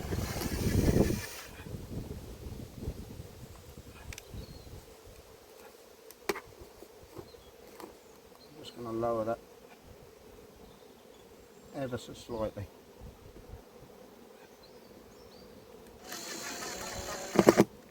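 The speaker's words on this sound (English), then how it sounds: "there are so many bees out looking" Honey bees buzz around an open hive at an apiary, a steady low drone running under the whole scene with brief louder bursts, while a person talks quietly over it.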